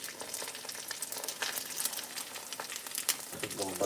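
Sausage and eggs sizzle together in a single pan, a steady loud crackle with scattered pops and occasional utensil scrapes throughout.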